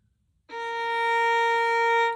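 A single sustained bowed string note, an A sharp, steady and clear with rich overtones, begins after a brief silence and holds for over a second.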